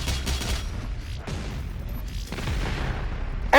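The BFG 10,000 fires in Doom Eternal, a series of deep booming blasts with descending swept tails, loud and close, followed by a sharp burst at the very end, with no voices.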